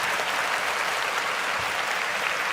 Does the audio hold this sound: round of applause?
yes